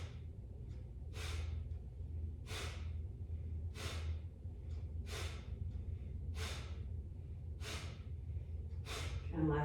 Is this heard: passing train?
no